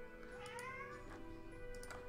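A pet cat gives a faint, drawn-out meow that rises and then falls, with a brief squeak after it, all set against quiet background music.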